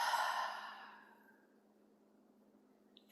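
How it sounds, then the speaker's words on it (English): A single deep breath, a strong airy exhale that fades out over about a second, followed by near silence and a faint new sound at the very end. "Big breath."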